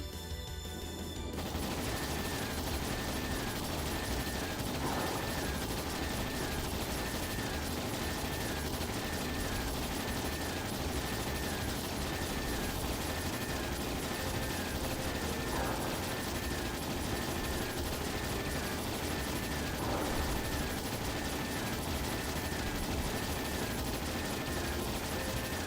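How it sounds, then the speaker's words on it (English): Ships firing their guns in a volley during a Trails in the Sky battle, a dense sustained barrage of rapid gunfire that stays loud and unbroken throughout, with a few brief louder bursts. "All ships fire."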